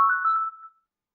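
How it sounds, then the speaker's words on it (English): A single short electronic ring from a business phone, a clear steady tone that fades out within a second, heard alone. "my business line is calling me right now"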